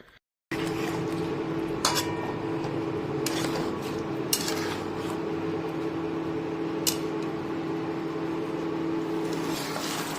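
A spoon stirs eggplant gravy in a pan, producing occasional scraping clicks and light metallic knocks over a constant low hum of kitchen background noise, without talk.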